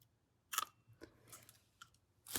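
A few quiet, crisp snips of small scissors cutting a little piece of material, spaced irregularly with a louder cut at the end.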